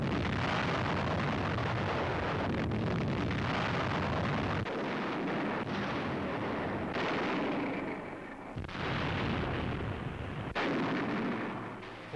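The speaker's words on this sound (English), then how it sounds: "From the air and by artillery, their positions are blasted." Artillery and air bombardment explosions pound positions on Okinawa in 1945, a dense, continuous roar of blasts and rumbling detonations with a few abrupt breaks, loud and sustained throughout.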